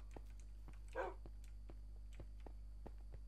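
Dogs in the Minecraft video game bark once, a brief and faint yelp over a steady low hum with scattered soft clicks.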